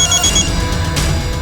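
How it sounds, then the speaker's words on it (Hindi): A telephone rings loudly and steadily with a bright, continuous trilling tone, close by with no voices over it. "सर, सरस्वती का फोन था"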